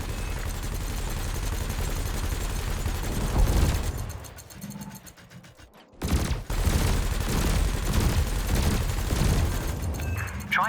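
Rapid bursts of ship weapons fire, cannon and laser, in the space game Elite Dangerous, loud repeated volleys broken by a brief lull with a whirring mechanism before the barrage resumes, a faint voice briefly underneath.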